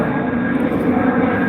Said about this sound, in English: There's a plane up there.